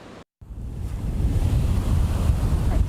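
Ocean surf during Tropical Storm Ophelia at Virginia Beach rolls in as a steady, heavy roar mixed with gusting wind buffeting the microphone, continuous after a brief silent dropout at the start.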